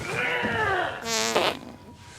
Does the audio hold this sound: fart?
yes